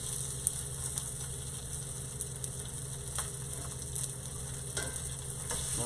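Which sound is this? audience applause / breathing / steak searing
steak searing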